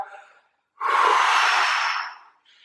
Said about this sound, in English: I always do is take a nice deep breath.